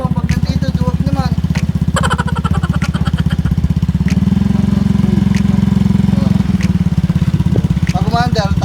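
A motorcycle engine runs steadily at close range with a loud, throbbing low idle that rises slightly midway, while people talk and call out over it.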